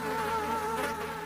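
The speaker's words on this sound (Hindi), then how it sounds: "उसके मुंह पर मक्खियां भिनभिना रही थी।" Flies buzzing around a dead woman's face in a dim hut, a steady close droning hum without pause.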